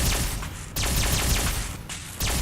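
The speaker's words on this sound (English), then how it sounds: "Why are you shooting at me?" Enemies fire guns in Fallout 4, with dense bursts of rapid shots and sharp cracks rattling continuously through the whole stretch, with no talking.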